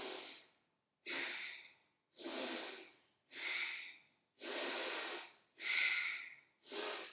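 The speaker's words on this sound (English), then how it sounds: "Bastrik is like an exaggerated version of normal breathing" Bhastrika yoga breathing, forceful rhythmic inhales and exhales through the nose, seven strong hissing breaths in an even pulse, close and clear with no talk.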